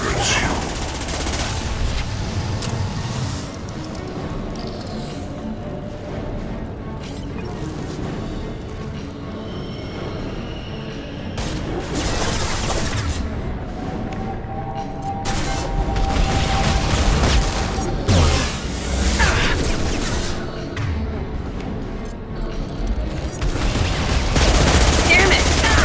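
Continuous gunfire and bursts fill a Mass Effect Legendary Edition battle, with loud sustained shooting and booms mixed with game sound effects and some voices, rising louder toward the end.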